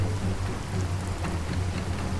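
Steady rain falls in a hilly area as a sound effect in a suspense drama, a continuous dense hiss with low rumble and no voices.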